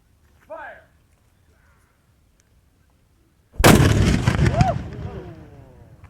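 A 4 1/2 inch bronze Coehorn mortar fires with one sudden, very loud outdoor blast that rolls and echoes away over several seconds, preceded by a brief voice in near silence.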